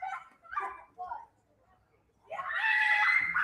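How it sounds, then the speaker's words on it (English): Shrill screaming rises from down below at a 10U youth softball game, a sustained high-pitched burst that follows brief nearby talk. "As we hear some screaming going on down below"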